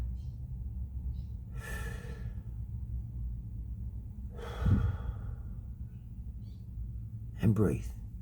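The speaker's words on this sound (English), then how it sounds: "Just breathe." A person draws three slow, deep breaths, each a soft airy rush with a brief gasp-like peak, spaced a few seconds apart over a low steady background hum.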